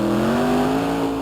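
A pulling truck with a 572 cubic inch aluminum Rodak engine roars at high revs, a loud, steady, close drone with a strong tonal whine that sags slightly across the short burst.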